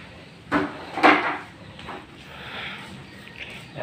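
An aluminum door being fitted on a construction site gives two solid knocks and bumps close by, followed by quieter scraping and handling noises as the frame is shifted into place.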